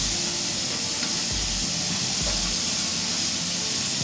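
Pork escalopes fry in hot butter and oil, a loud dense hiss and sizzle filling the pan with low rumbling bubbling beneath, continuous throughout.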